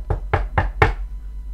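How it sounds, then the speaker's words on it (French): Someone knocks on a door four times in an even, unhurried rhythm. The raps are sharp, solid and close, with silence after the last one. "Et là, il y a quelqu'un qui va frapper à la porte."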